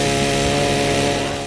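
In the 2010 video game Splatterhouse, a chainsaw revs in a loud, continuous buzzing roar that stays close and unbroken for the whole moment.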